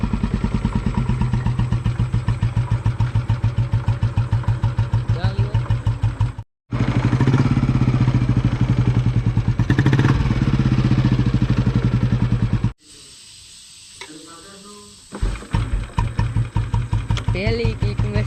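A Royal Enfield Bullet motorcycle fires up after a kick and settles into a loud, steady single-cylinder thump close by, with a brief cut-out partway through before the running engine returns and a voice talks over it near the end.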